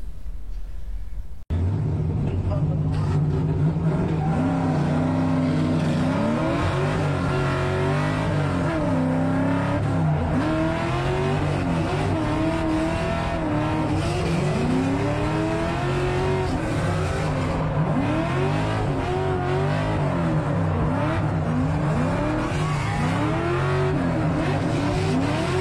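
Drift cars on a tandem run: engines rev hard and rise and fall in wavering pitch, with long tire squeals layered over the roar, loud and sustained throughout after a brief quieter opening.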